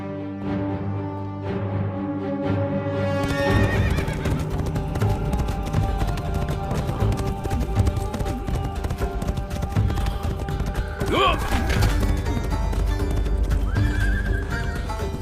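The emperor's horse clip-clops steadily on hard ground and whinnies, with loud, close hoofbeats running through background music and sound effects.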